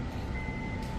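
Warning beeps sound as the power tailgate of a 2017 Toyota Fortuner VRZ 4x4 closes, a steady electronic tone held over a low motor hum throughout, close by.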